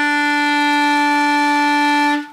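A clarinet holds a steady, clear note E for about two seconds, a single sustained tone with rich overtones that ends cleanly, played alone with no talking.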